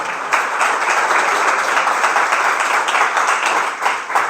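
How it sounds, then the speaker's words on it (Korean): A church congregation at a Sunday service claps hands in praise, a dense, steady burst of many hands applauding together, loud and close, with no talk over it. "Let's give the Lord one more hand clap of praise."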